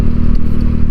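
A Honda Beat Fi scooter hums steadily close up while riding, its low engine drone and road rumble filling a brief one-second stretch.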